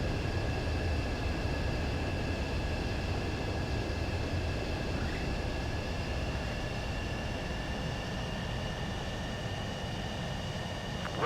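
A fighter jet roars in a steady, loud rush as it comes in to land on a runway in Ace Combat 7, with a thin whine riding over the constant engine noise.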